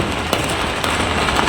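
Fireworks bursting from a burning Ravana effigy at a Dussehra celebration, a loud continuous crackle with a couple of sharper pops, dense and close like heavy rain.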